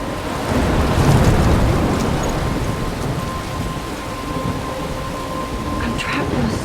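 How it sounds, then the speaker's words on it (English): Thunderstorm with steady heavy rain and a low rolling rumble of thunder in the video game Life is Strange, loud and continuous, with no voices. "I'm trapped in a storm?"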